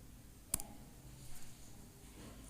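A computer mouse clicks once sharply and close, with a quick second tap right after, then faint softer clicks over a quiet room hiss.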